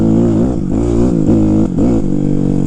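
A Kawasaki KX 250F dirt bike engine warming up, loud and close, a steady buzzing idle broken by quick throttle blips that rev and drop back.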